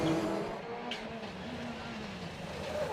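A Ford Fiesta rallycross supercar races at Mondello Park, its engine droning and shifting pitch at mid distance, steady and moderately loud with no voices.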